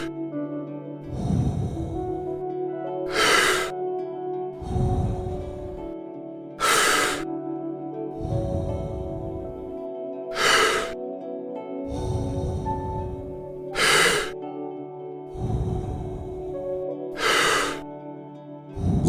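Slow, deep guided breaths, each long inhale followed by a full exhale, repeated about eight times in an even rhythm, close and clear, with tonal music playing underneath.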